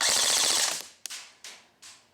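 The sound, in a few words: Real Sword Type 97 airsoft gun firing full auto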